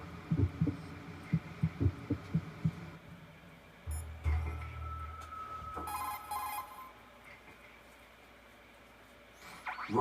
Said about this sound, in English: His heartbeat should sound different from other people's, so use the directional microphone to locate him